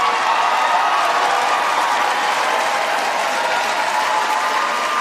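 Sustained applause from a large crowd at the State of the Union address, a dense, steady wash of clapping that stays loud and even throughout with no pauses.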